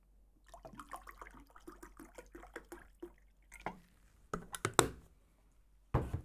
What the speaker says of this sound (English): Water refill.